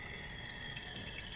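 Water poured into a container for weighing as the solvent for a creamy moisturising shampoo, a steady faint trickling splash running throughout this short moment with no speech.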